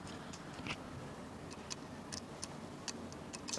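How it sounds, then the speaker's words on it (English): Steady clock-like ticking from a Tamron 20mm f/2.8 lens mounted on a Sony A7II, faint and close, with small clicks at an even rhythm and no talking. "I'm putting the microphone right in front of the lens so that you can hear that noise constantly, like a clock"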